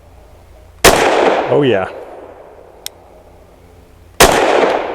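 Two sharp, loud pistol shots from a custom Sig P320 firing 68 grain +P Extreme Defender rounds ring out about three seconds apart, each followed by a long echoing tail outdoors, with a brief spoken remark between them.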